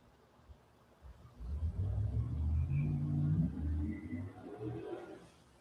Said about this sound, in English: Like somebody's flying their car outside.